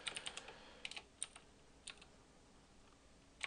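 Keys clacking as C# code is typed on a computer keyboard for a dice game program, with quick clustered bursts of keystrokes separated by pauses, close and fairly quiet.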